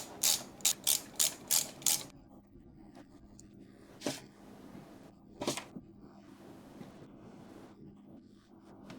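Ratchet tightening bolts evenly on an Indian Stage 2 motorcycle engine: six quick, sharp clicking bursts close by, followed by a few slower, isolated clicks and faint workshop handling.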